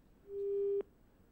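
A single telephone busy tone after a dropped call: one clean steady beep lasting about half a second, ending abruptly with a click, against a quiet line.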